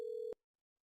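A single steady electronic telephone tone sounds during a call to a Twilio number, lasting about a third of a second before cutting off abruptly into silence.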